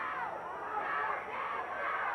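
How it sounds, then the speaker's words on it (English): A 1987 wrestling arena crowd cheers and shouts to rally a beaten wrestler, a dense, steady wash of voices swelling slightly in waves. "Now the crowd trying to encourage Jeff Raitz to come back."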